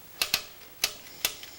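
An old manual typewriter clacks in sharp, close keystrokes, an irregular sequence of about five crisp strikes with short pauses between them.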